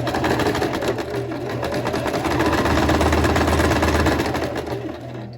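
A sewing machine stitches a shirt shoulder seam at a 5/8 seam allowance, running continuously with a fast, even mechanical whir and steady rhythmic thrum, close and loud throughout.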